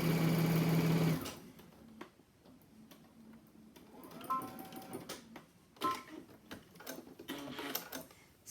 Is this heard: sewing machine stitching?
yes